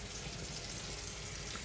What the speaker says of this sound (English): give the roots a good rinse to wash away some of the old medium from the roots